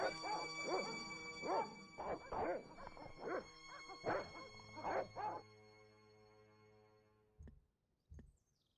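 Dogs barking repeatedly in the video game Broken Sword Reforged, a run of loud, fairly close barks over a sustained musical tone, ending in a couple of last yips.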